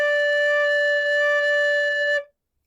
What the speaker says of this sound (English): Now, here is a brand new note. This is note D.